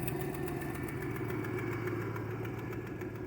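Low, steady engine idle from a vehicle sitting in four-wheel-drive low range with first gear selected, a constant rumbling drone with faint knocking vibration and no talk over it.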